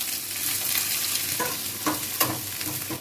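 Onions fry in hot mustard oil with a dense, continuous sizzle, while a few sharper scrapes and clicks from stirring stand out near the end.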